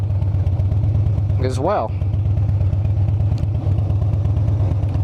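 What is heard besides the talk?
air-cooled motorcycle engine while riding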